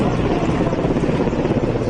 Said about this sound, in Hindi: कोलकाता में पूर्वी कमान के कमांड हॉस्पिटल के ऊपर से MI-17 गुजरा।